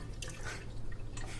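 Water dripping and splashing from an upturned cup covered with tulle, a few brief spattering drips over a low steady hum, close and moderately loud.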